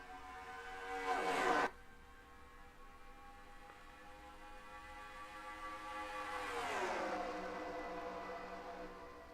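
Race cars at a NASCAR video game green flag start at Kentucky Speedway, engines whining and rising in pitch as they pull away. A brief loud burst comes early, then a steady swelling roar.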